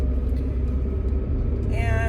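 Steady low rumble of a car driving on the road, constant engine and road noise close by, with a voice talking over it near the end.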